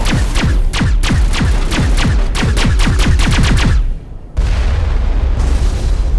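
Rapid bursts of gunfire in the video game Mass Effect, fought in underground tunnels at a dig site: loud, close, repeated shots in quick succession for about four seconds, a brief lull, then dense rumbling gunfire and booms resuming.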